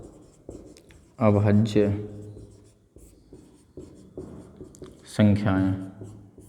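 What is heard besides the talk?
writing on a board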